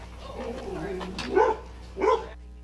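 An aggressive pit bull being impounded gives two sharp, close barks about half a second apart, following a stretch of lower grumbling noise and voices in the background.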